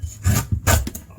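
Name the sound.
peeling the tough outer layer off lemongrass stalks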